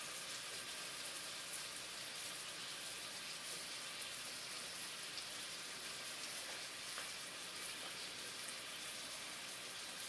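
Salisbury steak patties fry in a pan with a steady, dense sizzle that holds evenly throughout, crackling softly with no voices over it.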